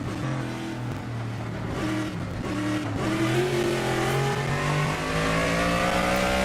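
Race car engine in an Xfinity road-course racing video game accelerating hard down the main straight, a loud continuous roar climbing in pitch through gear changes, heard alone.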